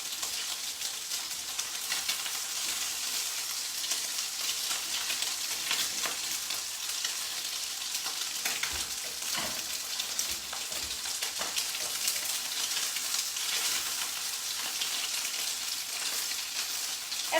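Fried chicken sizzling in a hot pot with the heat turned off, a dense continuous crackle of hot oil with scattered pops, steady and close, no talking.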